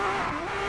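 Formula 3 race car in a racing video game spinning out on track: a brief, loud engine whine with shifting revs and a hint of tire scrub, with no voices.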